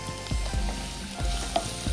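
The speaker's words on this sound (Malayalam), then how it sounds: "ഉള്ളി ഒന്ന് അത്യാവശ്യം ഒന്ന് മണം കിട്ടുന്നവരെ ഒന്ന് വഴറ്റുക, നല്ലവണ്ണം ഒന്ന് വഴറ്റണം" Chopped onions sizzle steadily in a hot pan while being stirred for a Kerala-style prawn theeyal, with rhythmic scraping strokes of a spoon repeating about every quarter second, close and clear.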